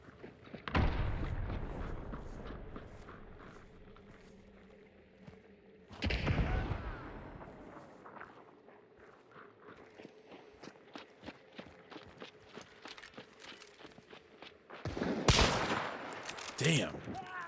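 Gunfire in Hunt: Showdown, with three loud bursts a few seconds apart, one at the start, one near the middle and one near the end, over steady footsteps and game ambience.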